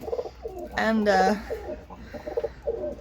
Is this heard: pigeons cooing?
yes